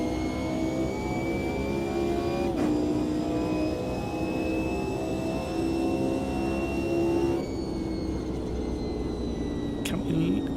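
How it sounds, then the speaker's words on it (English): A jet aircraft passing low overhead, well off its usual flight path, gives a continuous loud roaring drone with a steady whine running through it, unbroken from start to finish. "Oh no, it's not. It's a jet."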